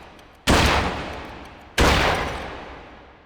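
Two loud rifle shots at targets in a shooting video game, each a sharp blast followed by a long decaying rumble, spaced over a second apart, with faint clicks before the first.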